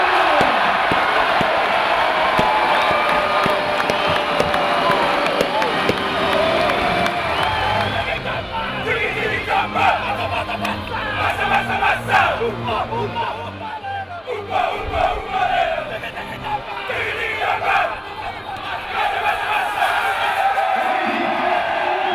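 Rugby fans celebrating promotion of the Falcons back into the Aviva Premiership after a match: a loud, dense crowd roaring, whooping and chanting continuously, with bursts of shouting swelling and fading across the stretch.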